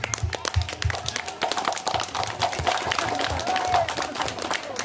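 Clapping and scattered applause from a crowd at an outdoor cultural festival in Bayan, North Lombok, honouring community members who rebuilt the Rudat, a steady patter of hands mixed with crowd noise.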